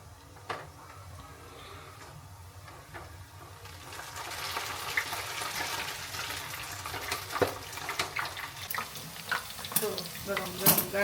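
Gathiya, gram-flour strands seasoned with pepper, asafoetida and salt, frying in hot oil in a home kitchen, a steady bubbling hiss that swells after a few seconds and stays loud, with scattered clicks and pops.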